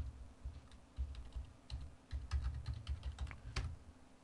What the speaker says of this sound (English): we're going to put in the IP address, if I can get it typed in here correctly